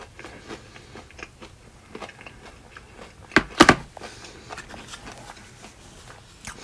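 Biting and chewing cheese and chicken nachos up close, a crisp crunchy bite standing out briefly amid quiet mouth sounds, with no talking.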